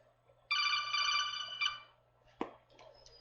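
A phone rings with a bright, steady electronic trill for about a second, then a few shorter bursts follow against a quiet background.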